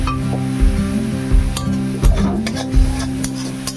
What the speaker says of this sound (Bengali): দিয়ে ভালো করে আমরা এটা নাড়িয়ে নেবো